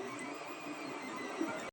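Old Anet A8 3D printer running a print, a steady buzzing whir of stepper motors with a faint high whine, close and even throughout, cutting off abruptly at the end.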